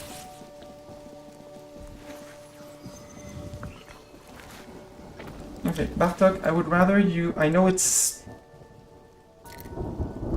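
A rainstorm with thunder in the Mind over Magic video game: steady rain patter under a spoken voice, with a louder rumbling burst in the middle.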